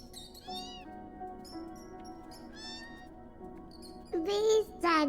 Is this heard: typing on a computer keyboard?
no